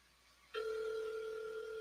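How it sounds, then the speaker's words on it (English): An outgoing telephone call rings through a speaker: after a faint hiss, a steady electronic ringback tone starts abruptly and holds evenly at low volume. "I got to call my Uber Eats guy right now. Call him on the phone."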